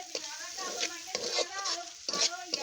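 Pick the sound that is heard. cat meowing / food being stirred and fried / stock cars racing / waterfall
food being stirred and fried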